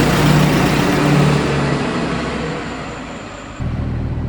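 A truck engine runs loud and close, then gradually fades as it pulls away, its steady rumble thinning until a fresh engine drone swells back in near the end.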